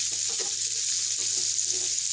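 Capsicum and other vegetables frying in oil in a home kitchen pan, a steady soft sizzle with faint stirring clatter throughout, no voices.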